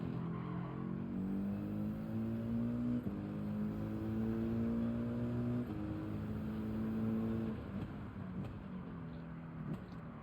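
A car engine in a racing video game hums and climbs through the gears, pitch rising then dropping at each shift, steady and close with faint tire squeal and no talk.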